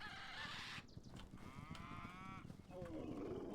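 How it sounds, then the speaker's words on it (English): A cow in the game Hytale gives a drawn-out moo, faint and somewhat distant over a steady noisy outdoor ambience, followed by a shorter honking call near the end. "This cow will not get into the pen."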